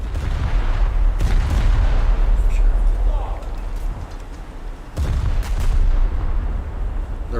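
Heavy naval gunfire from the battleship USS North Dakota in a video game: two deep, booming salvos a few seconds apart, each followed by a rumbling low roar and a noisy, broadband tail.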